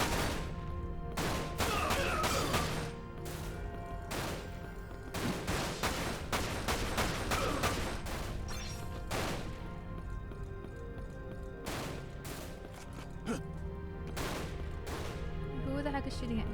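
Gunfire rattles repeatedly at the player in the video game Dirge of Cerberus, a sustained barrage of loud, sharp shots in irregular bursts with game music and effects beneath.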